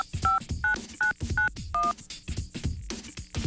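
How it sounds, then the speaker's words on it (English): Five short DTMF keypad tones beep in a steady rhythm as a telephone number is dialed, clear and close against a background of clicks and soft noise. "Listen carefully to the sounds the numbers make as she dials."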